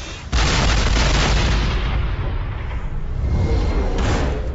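Loud, sustained barrage of naval weapons fire and explosions from the Battleship movie trailer, a dense roaring wall of booms that starts abruptly and rumbles on without a break, no talking over it.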